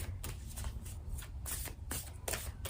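A deck of cards is shuffled in several quick riffling bursts, each a crisp, close flutter with short pauses between them.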